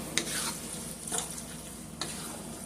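Baked spaghetti ingredients being stirred together with tomato sauce, giving a wet, steady stirring and sizzling texture with a few sharper scrapes, close and alone.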